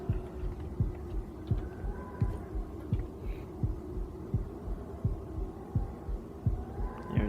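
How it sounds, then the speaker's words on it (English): Steady rhythmic heartbeat thumps of an enemy in the video game Afterfall InSanity, low and muffled, pulsing regularly at close range over a faint ambient hum with no talk. "There's that enemy heartbeat again."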